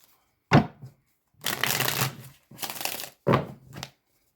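Tarot cards are shuffled by hand in several separate bursts of riffling and crisp flapping, close and distinct, with short silences between them and no voices.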